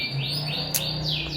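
Emprit kaji bird kept as a pet, giving quick repeated high chirps and sweeping tweets close by over a steady background hum, with no talk.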